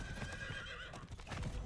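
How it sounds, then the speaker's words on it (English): A horse in Diablo 4 trots with rhythmic clip-clop hoofbeats and lets out a whinny, steady and close amid busy game sound. "Let's run over stuff with our horse."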